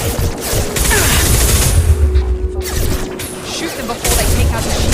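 Sustained gunfire rattles in the sci-fi shooter Mass Effect 2, a dense, loud barrage of bursts with booms and crashing impacts running continuously, with game voices mixed in under the shooting.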